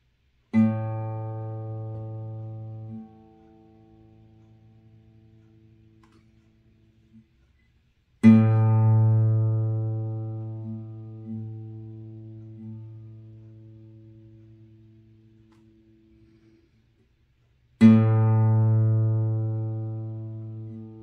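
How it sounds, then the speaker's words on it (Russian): A plucked third string on a string instrument rings out three times, each note a clear, sustained harmonic tone with a bright overtone that decays slowly into near silence before the next pluck. "вот этого вот обертона, который вы сейчас услышите"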